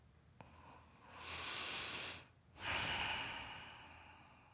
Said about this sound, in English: we're going to breathe it in and we're going to breathe it out quietly